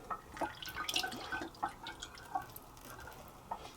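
Fresh water pouring into a gallon container of home-brewed beer wort, a light trickling and dripping splash that goes on steadily in the foreground.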